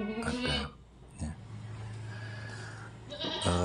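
A full-blood Boer goat buck bleats in a farm pen, a short nasal call near the start and another at the end, with a low steady hum and faint pen noise in between.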